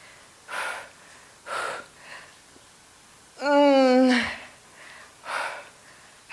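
Heavy breaths during a strenuous leg workout set, several rhythmic exhalations and gasps at close range, with one longer voiced, strained breath in the middle.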